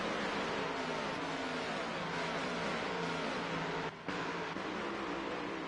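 Several NASCAR stock car engines roar together in a tightly bunched pack at Las Vegas in the NASCAR Heat racing game, a dense steady drone of engine noise with a brief dip near the end and no talk.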